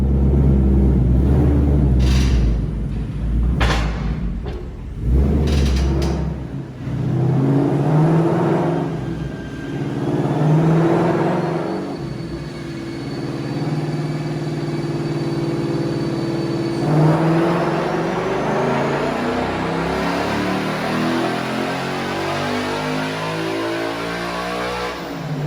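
6-speed manual Ford Mustang Mach 1 pulling hard on a dyno, its engine note climbing steadily through the revs with a loud, continuous rumble and a whine that rises to the end.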